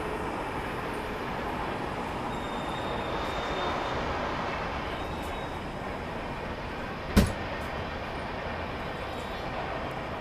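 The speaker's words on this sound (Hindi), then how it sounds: "अब ये कौन सी ट्रेन है उस तरफ से आ रही है, मेरे ख्याल से वही लाइन है निज़ामुद्दीन वाली।" A train rolls steadily past on the Nizamuddin line toward New Delhi: a continuous rumble and rattle of wagons, at moderate distance, with one sharp clank partway through and no talk.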